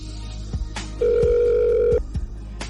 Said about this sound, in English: The phone rings on the other end.